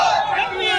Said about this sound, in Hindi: सड़क पर प्रदर्शनकारियों की भारी भीड़ जमा हो गई जो क्षत्रिय समुदाय की एकता के नारे लगाती रही।